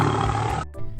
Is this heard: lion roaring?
yes